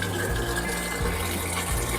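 Water gushes steadily from a foot-pedal-operated filtered water tap at Mt. Camisong in Baguio, a strong, continuous splashing flow heard close up with faint low thumps underneath.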